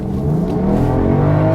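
A BMW F10 engine revs hard under acceleration in drag mode, a loud close-up rising drone that climbs steadily through a brief gear shift, heard alone without talk.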